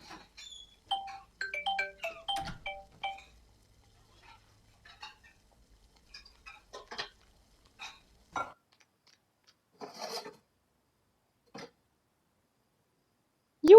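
A phone ringtone plays as sparse, faint melodic chimes and beeps in short intermittent bursts, scattered across an otherwise quiet stretch.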